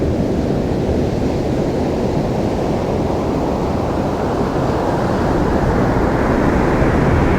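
Ocean surf rolls onto a beach at sunrise, a loud, steady broadband wash with no gaps and wind buffeting the microphone.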